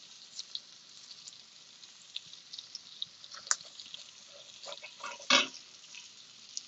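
Eggs fry on the cast-iron surface of a Big Green Egg ceramic grill with a faint, steady sizzle, scattered small pops and crackles, and one sharper burst near the end.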